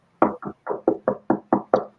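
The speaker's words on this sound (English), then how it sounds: "That was me knocking on wood." Eight sharp, close knocks on wood fall in a quick, slightly uneven rhythm, each a short hollow thump with no other sound around them.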